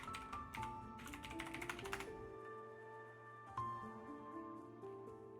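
Light, quick keystrokes tap on a computer keyboard in short bursts, faint and close, over background game music with no speech.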